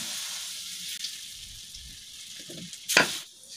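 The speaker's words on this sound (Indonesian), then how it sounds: "Kalau sudah jadi adonannya langsung saja digoreng." Batter drops into hot oil and sizzles steadily for several seconds, with a brief louder splash or crackle near the end, quiet and close, with no voices.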